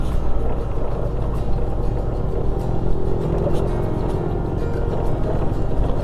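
A motor scooter rolling over loose gravel on an off-road stretch between Roswell and Socorro, New Mexico: a steady engine drone mixed with continuous crunching and rumble, close and loud throughout with no break.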